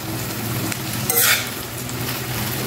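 Gongura leaves and red chillies frying in a pan for pickle, a close steady sizzle with a brief louder burst of hiss midway as the pan is stirred.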